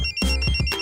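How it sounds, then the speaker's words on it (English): A phone rings with a short electronic tone, and its steady high pitches come in close, quick pulses. "is that your phone?"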